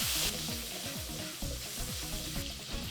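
Fat melting and sizzling in a pan while cooking Nigerian fried rice, a steady close frying hiss that runs throughout with a little stirring, no talk, though background music is also audible.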